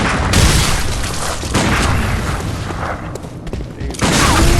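Gunfire and heavy booming impacts in Bloodborne's Yahar'gul, Unseen Village during a gun parry fight, loud sharp blasts at the start and near the end with rumbling combat noise between.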